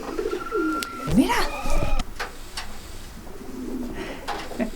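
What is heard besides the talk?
pigeons cooing in a loft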